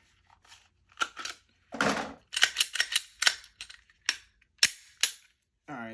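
A Glock 43 pistol and a Kydex holster being handled, giving a series of sharp close plastic clicks and snaps at irregular intervals, with a brief rustle partway through and a short voice at the end.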